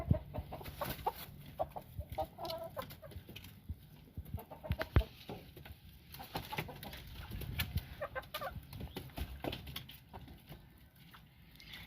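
Chickens and roosters in a coop with three males among the hens, clucking and calling in scattered bursts at a moderate distance over a faint background.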